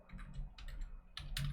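Someone types on a computer keyboard, a quick run of close, faint key clicks in short uneven bursts.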